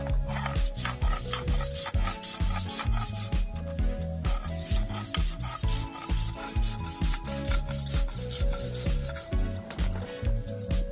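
Whole cumin seeds, garlic cloves and salt ground with a little water into a paste on a stone, a steady rhythmic rubbing and scraping that repeats continuously, close and loud, with no voices.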